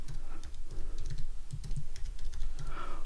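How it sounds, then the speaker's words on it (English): Typing a floor plan name on a computer keyboard: a quick run of close, crisp key clicks with uneven rhythm over about three seconds, no voices. "so let's just type that in."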